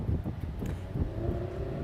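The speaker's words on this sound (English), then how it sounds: "It's a little bit windy" Wind gusts buffet the microphone outdoors at a Dallas early voting location, a constant loud low rumble with uneven bursts lasting throughout.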